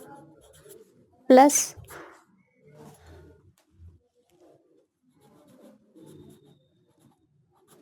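Marker or chalk scratching out a grammar formula on a board, faint intermittent strokes with one sharp squeak, interleaved with a teacher's speech.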